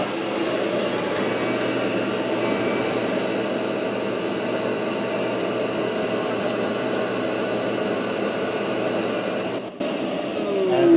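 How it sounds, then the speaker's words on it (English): A shop vac called Big Bertha vacuuming out a 1JZ-swapped 240SX drift car, a steady loud whining roar that holds for the whole stretch with no talking, with a brief dip near the end. "we're gonna plug in the shop vac and clean it out"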